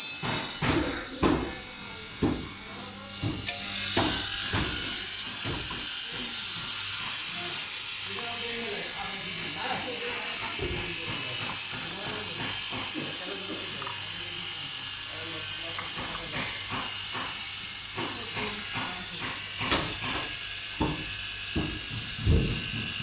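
A car AC system on a 2016 Hyundai Tucson hisses steadily as the compressor pipe is opened for an R134a refill, with scattered clicks and metallic ratcheting over the sustained high hiss.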